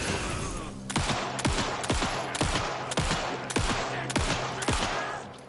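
Gunshots in the video game Alan Wake 2: seven or eight loud, sharp shots fired in a steady sequence about two thirds of a second apart, each followed by a brief echoing tail over a constant low game ambience.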